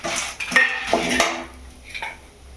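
Sesame seeds, dried red chillies and fenugreek dry-roasting in a pan for puliyogare powder, stirred with a metal spoon: close scraping and clinking strokes against the pan, a few sharp metallic taps, no talk.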